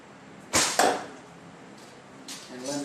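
An arrow looses in a hallway archery range with two sharp close cracks, the release and then the hit, followed by quiet room tone and some faint movement near the end.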